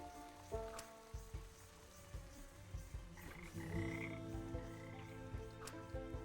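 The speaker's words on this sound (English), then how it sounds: "Lots of frogs." Frogs croak in the video game Wytchwood, a chorus of short, repeated croaks with a faint ambient insect hum in the background and a few louder calls close by.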